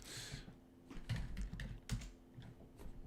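Fingers tap out quick, irregular bursts of keystrokes on a computer keyboard, close and fairly quiet, with brief pauses between clusters and no talking.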